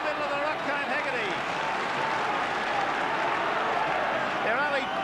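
A roaring crowd of about 50,000 fills a large stadium at a St Helens versus Australia rugby league match, a dense, continuous wash of cheering and clapping beneath a commentator's voice.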